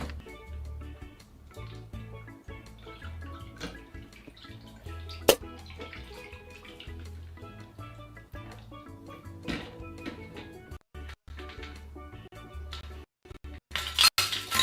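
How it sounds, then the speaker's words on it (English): Cocktail poured over ice into a highball glass, with clinks of ice and glass and a trickle of liquid in close, fairly quiet bursts over a low background hum. "Now straight into your highball glass filled with ice."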